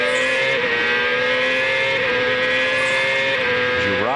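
CART race cars scream past during Friday qualifying at Monterrey, a loud, sustained high-pitched engine howl that rises and then drops sharply as a car passes at the end.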